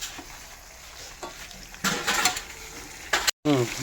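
Onion and green chilies frying in hot oil, a soft steady sizzle with bursts of stirring scrapes in the pan, close and moderately loud, with a brief cut near the end.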